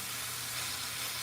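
Onions sizzling as they cook in a pan for beans and rice with cubed steaks, a steady broadband frying hiss that holds even and fairly quiet for the whole moment, with no voices over it.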